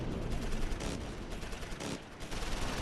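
Dense gunfire crackles through a Close Combat IV battle, a continuous rattle of overlapping shots and bursts at moderate level with brief dips, no talking.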